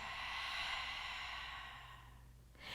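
A single long, soft exhale through the mouth or nose during a slow-flow yoga session, close and quiet, tapering off before a faint fresh breath at the end.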